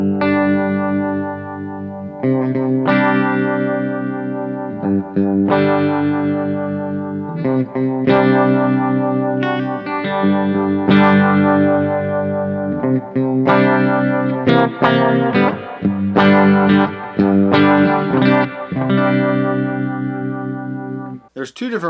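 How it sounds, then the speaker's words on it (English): An electric guitar runs through a Line 6 HX Effects unit set to a 60s Bias Tremolo with a touch of modulation, giving sustained chords a pulsing, wavering shimmer, played alone and loud. "And then the last one is a 60s Bias Tremolo."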